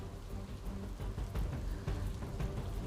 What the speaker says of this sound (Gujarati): બપોર બાદ અલગ અલગ વિસ્તારમાં વરસાદ વરસવાનું શરૂ થઈ ચૂક્યું છે